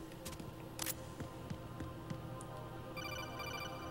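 Phone ringing in the video game Metal Gear Solid 2, a quiet electronic ring tone that pulses steadily under soft background game sounds and picks up a denser trill near the end.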